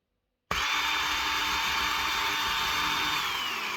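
A Parkside PWSAM 20V cordless angle grinder starts suddenly out of silence and runs at a loud, steady high whine. Its motor sound stays constant for several seconds and slows down slightly near the end.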